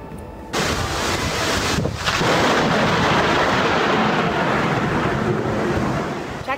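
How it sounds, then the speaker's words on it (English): A lightning strike at Blue Wahoo Stadium in Pensacola, Florida, unleashes a sudden loud crack of thunder that rolls on as a sustained, broad rumble with wind buffeting the microphone. "Check out that lightning strike caught on camera."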